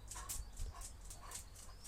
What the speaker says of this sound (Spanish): Aquí veis a mi perra también interactuando